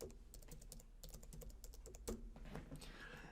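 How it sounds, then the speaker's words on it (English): Someone types on a computer keyboard, producing quick, close, irregular key clicks in a steady stream with a brief louder tap partway through. "I'm going to type in just the name of that I chose for the account."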